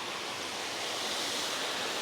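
Waterfall at Wentworth Falls in New South Wales, a steady, unbroken broadband rush of falling water at moderate level, flowing more gently than usual, with no voices over it.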